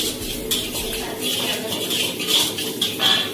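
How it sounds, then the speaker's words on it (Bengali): Mushrooms, garlic and green chili sautéing in oil in a pan, a soft steady sizzle with light clinks of a utensil against the pan and faint background noise. "ভালো করে এটাকে সতে করে নেওয়ার পরে"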